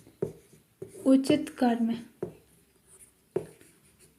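Someone speaks while writing on a board. Short scratchy strokes and light taps of the writing surface sound under her talking.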